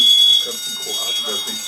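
A fire alarm going off in a studio sounds as a shrill, steady high tone that pulses on and off, with people talking underneath it close by.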